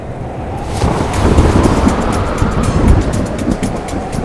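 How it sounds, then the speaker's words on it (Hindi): A strong wind picks up suddenly and roars loud and close as a broad rushing blast with gusty swells, heard alone without voices. "अचानक इतनी तेज हवा?"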